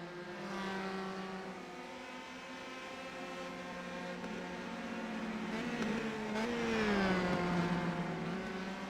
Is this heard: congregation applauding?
no